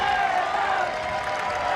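Crowd noise from spectators at a beach ultimate frisbee mixed gold medal match between Germany and Australia, a steady broad roar of cheering throughout, with commentary-like voices mixed in.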